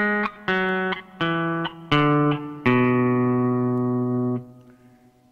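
Pedal steel guitar tuned to E9th chromatic, strings plucked one at a time in a descending run of about six sustained notes, each ringing clearly and alone, the last note held long before fading.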